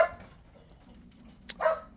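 Dogs bark near a garden, a single bark at the start and another sharp, louder bark near the end, with quiet between.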